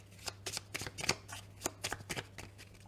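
Oracle cards being shuffled by hand for a reading, a run of quick papery riffles and slaps in uneven bursts, close and fairly quiet with a faint low hum underneath.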